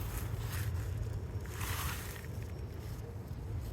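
A 1986 Honda TRX 250R ATV, a restored factory show bike, runs with a steady, loud, buzzy engine rumble that holds continuously and close by, with slight swells in intensity.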